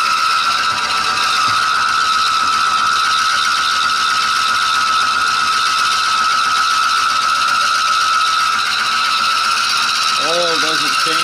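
A metal lathe spinning at speed 4 gives off a steady, loud mechanical drone with a sustained high-pitched whine from a wheel running throughout. There is a brief warbling sound near the end.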